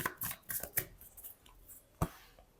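Tarot cards being shuffled by hand: a few quick riffling, flicking bursts, close and soft, ending in one sharper tap.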